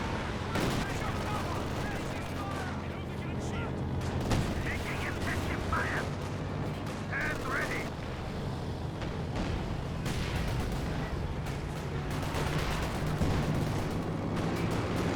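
Artillery barrage in Company of Heroes 2, dense overlapping thuds and blasts rolling continuously at steady loudness, mixed with battlefield gunfire and faint voices underneath.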